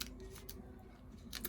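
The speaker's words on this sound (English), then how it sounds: "poke your paper snips in and cut off the" Paper snips cutting dimensional foam adhesive off cardstock in a craft session, a few quiet crisp snips at the start, middle and end.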